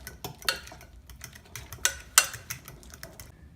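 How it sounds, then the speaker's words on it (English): Guacamole with jalapeno mixed in a bowl, giving repeated close clicks and scrapes of a utensil against the bowl in an uneven rhythm over a soft background, no voices. "And then just give it a good mix so that you don't have one giant spicy bite"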